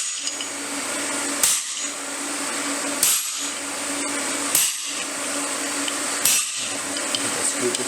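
Fly press making single blows while forging a die, four sharp metallic strikes spaced roughly every one and a half seconds over a steady workshop hum, each blow loud and close.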